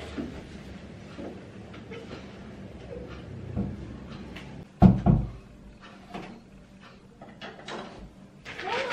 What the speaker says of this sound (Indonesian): saya tutup pintu terlebih dahulu ya Bu ya untuk menjaga privasi